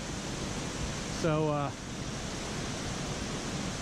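Waterfall in Linville Gorge, a steady, full rushing roar of falling water filling the whole scene, with a brief spoken word over it partway through.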